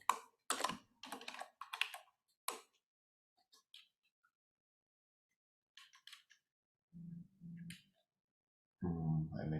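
Computer keyboard typing in short clustered bursts at a market-review broadcast, crisp close clicks separated by pauses, with a few scattered keystrokes later and a low droning hum near the end.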